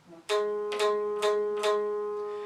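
A single electric guitar note on the sixth fret of the third string, picked four times in a steady rhythm, ringing clearly between strokes and sustaining at the end.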